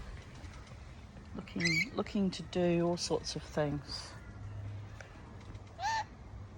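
A pet rainbow lorikeet named Charlie gives a series of sharp, close chirps and squawks, mixed in with a person talking nearby.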